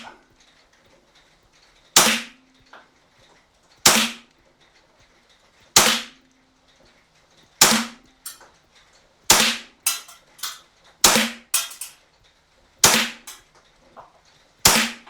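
An EMG SAI 2011 DS 4.3 CO2 blowback airsoft pistol firing ten rounds, sharp loud cracks spaced irregularly, slow at first then quicker near the end, each with a short snap of the slide, close and alone.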